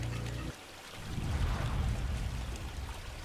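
A cartoon river flows with a steady pouring, trickling rush of water, moderately loud and continuous after a brief low hum at the start.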